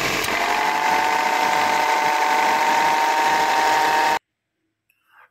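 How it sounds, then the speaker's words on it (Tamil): An abnormal, buzzy mechanical whirr comes from a Tata Manza's AC compressor after it is switched on. It runs loud and steady for about four seconds, then cuts off abruptly into near silence. "ஒரு நாய்ஸ் கேட்குது ஏசி கம்பர்ஸில் இருந்து"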